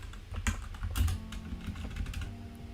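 Code being typed on a computer keyboard: a steady run of close, clicky keystrokes, slightly uneven in rhythm, heard alone without any voices.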